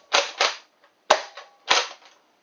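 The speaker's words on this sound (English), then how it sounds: "See how these balls are bouncing around after you shoot them." A Nerf Rival Kronos toy blaster fires foam balls in four sharp, close pops, two quickly together, then two more spaced apart, with brief rattling after each shot.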